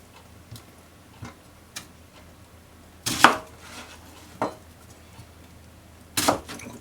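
A knife chops an onion on a cutting board in sparse, sharp taps, with a couple of heavier strikes, while pork-and-vegetable miso soup is being prepared.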